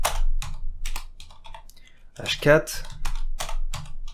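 Computer keyboard typing comes in quick clusters of crisp clicks with short pauses, close by, while someone talks intermittently over it.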